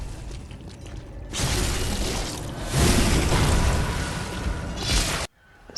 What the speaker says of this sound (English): The sound of backstabs.